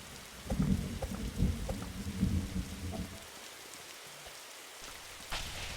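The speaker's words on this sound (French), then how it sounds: "Ah, le tonnerre, il est encore là?" Thunder rolls low and rumbling through steady rain in a forest survival video game, fading out midway and leaving quiet patter behind.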